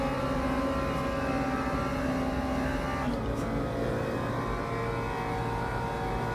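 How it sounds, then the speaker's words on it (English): An LMP2 prototype race car in the sim racing game Le Mans Ultimate roars steadily, its engine tone holding and shifting slightly as it closes in, loud and continuous over the constant drone of the player's own car. "LMP2 is coming"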